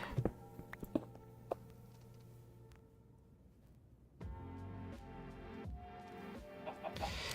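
Minecraft chicken clucking on a hardcore island, a few short clucks near the start, then faint game ambience and a louder patch of movement sounds, with no voices.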